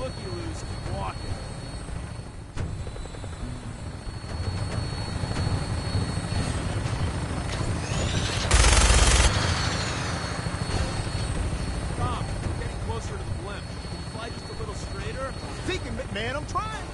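A vertibird aircraft in the video game Fallout idles with a steady engine and rotor drone throughout, swelling briefly with a louder burst midway, while people talk over it.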